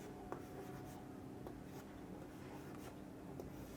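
Chalk or marker scratches faintly across a board in short strokes with a few sharp taps, quiet and close against a low room hum.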